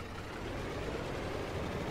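An old-style tractor engine in Farming Simulator 22 rumbles in a steady, dense, low drone with no pauses.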